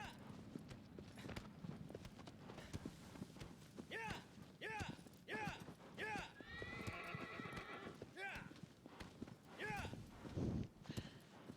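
Agro, the horse in the video game Shadow of the Colossus, whinnies repeatedly and snorts amid steady clip-clopping hooves, with game music and ambient noise throughout.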